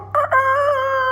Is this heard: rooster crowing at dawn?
yes